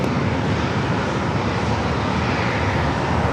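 Southwest airliner taking off from runway 27 at San Diego airport, a steady, loud broadband engine roar filling the whole stretch without letup, no voices over it.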